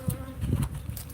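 Honey bees buzz at a hive, a close, wavering drone of several insects over about a second, fairly faint.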